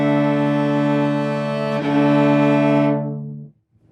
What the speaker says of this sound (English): I'm going to lower the pitch of the D string while maintaining the A string.